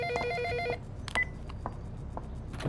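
A telephone rings in a quiet room, one bright electronic trill lasting under a second, followed by faint clicks and handling sounds as the call is answered.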